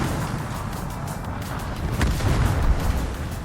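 Battleship guns fire in World of Warships during a close-range exchange involving the Kremlin, a heavy boom that swells over a continuous rumbling naval battle din.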